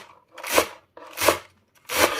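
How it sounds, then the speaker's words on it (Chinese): A knife chopping chives on a cutting board, three separate bursts of cutting roughly half a second apart, close and fairly loud, with no talk. "改刀把根部给它切去不要，再给它切成韭菜碎"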